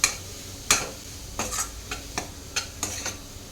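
A spoon scrapes and clinks against a pan as crumbled tofu, or soya paneer, is mixed into sizzling masala for tofu bhurji, with a handful of sharp irregular strokes over a faint sizzle.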